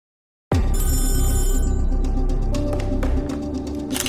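A telephone rings loudly and abruptly after a moment of silence, its bright bell tone holding for several seconds before fading into quieter background noise, with no one speaking.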